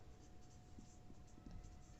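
Pen writing on paper during a geometry lesson, quiet close scratching strokes in short irregular bursts against a faint steady hum, with no talking.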